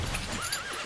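A horse whinnies briefly in an audiobook scene of a rider urging his horse forward into the sea, a short, fairly faint neigh over a soft background.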